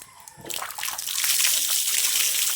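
Water splashes during an outdoor bath in a rural setting. A brief quiet opening gives way to a loud, close, sustained rush of pouring and splashing.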